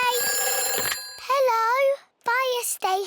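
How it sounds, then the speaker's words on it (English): The fire station telephone in a Peppa Pig cartoon rings with a shrill, trilling bell for about a second. A child's sing-song voice then speaks in short phrases. "It's the fire phone. Oh, can you answer it, Peppa?"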